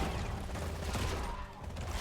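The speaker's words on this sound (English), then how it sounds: "did switch over to the other faster shooting gun. It's like a machine gun." Gunships in the ZeroSpace strategy game fire a fast machine gun, a dense, rapid rattle of shots in a busy battle mix, moderately loud throughout.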